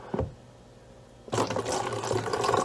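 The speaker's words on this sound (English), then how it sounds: "while we pour it in here" Liquid is poured into bottles with a hand held over the opening: a short splash, a pause, then a steady, close gurgling stream that runs on and grows slightly louder. No one speaks.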